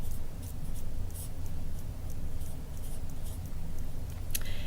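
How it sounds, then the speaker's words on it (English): A pen scratches across paper in short bursts of strokes, close and fairly quiet, with brief pauses between marks and no talk. "now we're going to write it"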